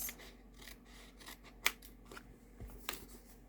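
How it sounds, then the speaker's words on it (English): Scissors snip repeatedly as paper card is fussy cut, giving a series of close, crisp cuts with small rustles of paper between them. "now I'm going to cut just around all of this"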